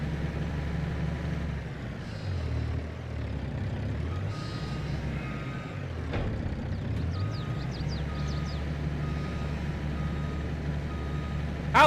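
Steady electronic reversing beeps from a truck backing up a trailer in Farming Simulator 22, a regular chirping pulse over a low, continuous engine rumble, moderately loud and unbroken for the whole stretch.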